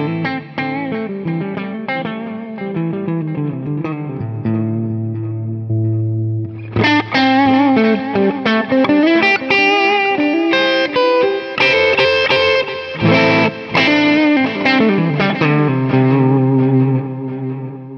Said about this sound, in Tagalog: Ito, Fender Super Reverb naman na